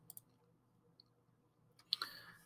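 A computer mouse gives a few sharp, quiet clicks, two quick ones at the start and another near the end, close to the microphone in a quiet room.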